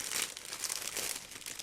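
A tight-fitting plastic bag holding the sprues of a Miniart 1/35 Field Workshop model kit crinkles and rustles in quick irregular bursts, quiet and close, with no talking.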